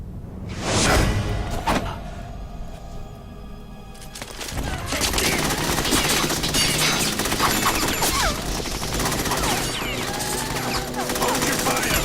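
In Metal Gear Solid 2, a loud burst of gunfire opens with sharp cracks, then dense automatic fire and crashing impacts keep going under shouting voices.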